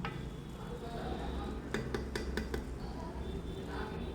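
Rice stirred and fried in ghee in a pot while making mutton biryani, with a steady sizzling hiss and a quick series of metallic spoon scrapes and clinks, heard close.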